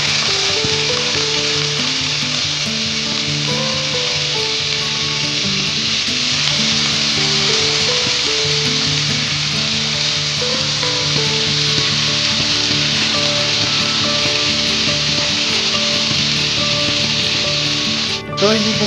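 Marinated chicken pieces fry in olive oil in a pan with a steady, dense sizzle and crackle that holds loud and even throughout, close up and without any talk.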